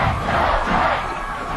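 A stadium crowd at a high school football quarterfinal between Decorah and Solon roars steadily in a loud, continuous wash of voices, with no clear individual words.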